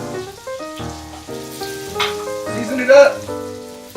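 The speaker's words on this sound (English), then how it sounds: "my potatoes are sauteing" Potatoes sauté in hot oil in a pan, a steady sizzle running beneath prominent music, with a brief spoken phrase partway through.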